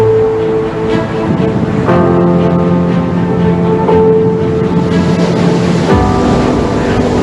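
Open ocean waves rolling across Sri Lanka's exclusive economic zone, a loud, continuous broad wash of surf with a steady tonal hum running beneath it throughout.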